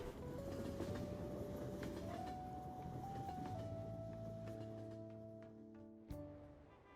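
A train in Persona 5 Royal rumbles steadily and then winds down, the engine tone stepping through pitches and fading toward a halt, ending with a short clank.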